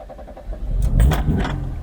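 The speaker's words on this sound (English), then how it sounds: "First of all, we've got the joy of seeing whether it'll actually start." A 1984 Nissan Cherry engine cranking and catching, with keys jangling first, then a loud close burst of starter churn and a rough rising idle, no talk.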